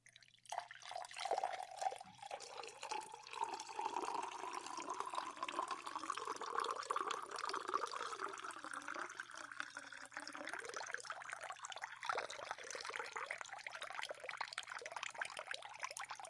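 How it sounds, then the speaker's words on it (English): Water being poured into a vessel as someone drinks: a steady, close trickling and filling stream with a rising pitch that runs for about fifteen seconds, alone and fairly faint. "I was trying to drink the water as fast as I was pouring it."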